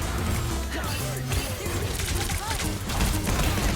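Rapid gunfire from an opposing player in the hero shooter Marvel Rivals, dense and continuous amid crashing impacts and game effects, with voices talking over the action.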